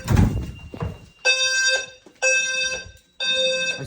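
A fire alarm panel, set off by an HVAC duct smoke detector, sounds three loud electronic buzzing tones with short gaps between them. A few dull thumps come before the first tone.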